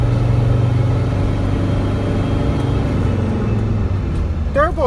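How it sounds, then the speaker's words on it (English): A Mercedes Sprinter van running with a turbo under-boost fault makes a steady, loud engine drone with a faint whine on top, and a voice talks over it. "Turbo is spinning."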